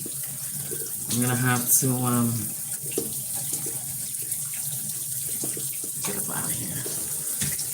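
Shower water runs steadily as a broadband hiss throughout, with a person talking over it, loudest early on and then more sporadically.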